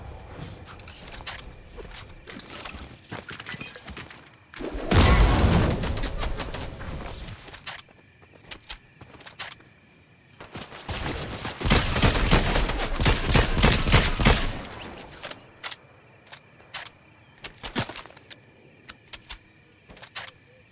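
Shotgun fire in Fortnite, bursts of loud, dense blasts clustered in two long stretches, with scattered sharp clicks and softer game sounds in between.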